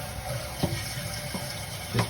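Water runs steadily into a toilet tank as it refills after the supply valve is turned on, a continuous close hiss and trickle with a few brief splashy bumps, no voices.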